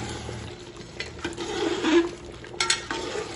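Mutton gravy being gently mixed with coriander in a pot for Awadhi-style dum ka gosht, with soft scraping stirs and light clinks against the pot over a faint simmer.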